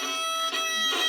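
A violin E string scratches under a slow bow with heavy pressure, giving a harsh, strained, buzzing tone in one short stroke with a slight break in the middle, close and fairly faint.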